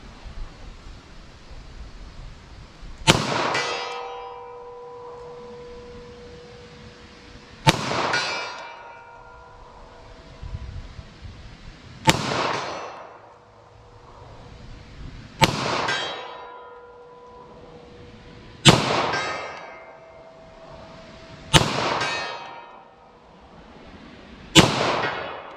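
Six sharp 9mm pistol shots of Speer Gold Dot 147 grain ammunition fired at targets 75 yards downrange, spaced several seconds apart, each a loud crack with a ringing decay and quiet pauses between.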